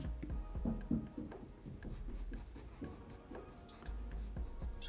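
A pencil or pen scratches hatching lines onto paper, a steady run of quick, close, soft strokes with a light scratchy rhythm and no talking.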